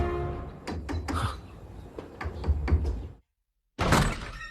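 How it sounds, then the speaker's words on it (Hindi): Someone knocks on a door with a rapid run of loud, close raps lasting about three seconds, then a brief silence before one more heavy burst of banging. "दरवाजा खटखटा के थक गया हूं मैं"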